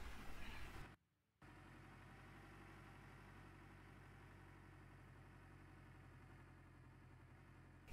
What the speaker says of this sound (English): Engine on.